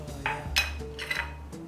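Butter and powdered sugar being stirred by hand in a bowl, with a few scattered clinks and scrapes of utensil against the bowl, close and quiet, no talking.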